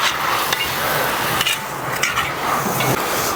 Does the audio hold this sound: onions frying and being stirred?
yes